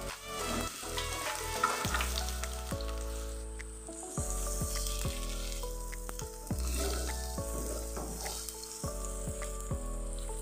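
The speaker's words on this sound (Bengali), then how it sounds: "আর কেটে রাখা যে পেঁয়াজ কুচিটা রয়েছে সেটাও আমি দিয়ে দেবো এখন" Chopped onions sizzle in hot oil in a pan while paneer bhurji is being cooked. A steady crackling hiss runs throughout, partly under background music.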